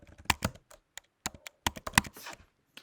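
Typing on a computer keyboard while editing text in Adobe Premiere Pro, irregular close clicks and short bursts of keystrokes with small pauses, no voice over them.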